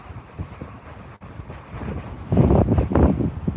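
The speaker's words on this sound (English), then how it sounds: "I don't know if you guys can still hear that wind or not, but it is absolutely crazy" Strong wind buffets the microphone outdoors during a winter sunset drive, a steady low rumble that surges louder and gustier in the second half, with no talking.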